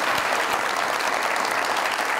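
A studio audience at a Pakistani comedy talk show, Mazaaq Raat, claps steadily: dense, even applause, loud and sustained throughout, with no speech over it.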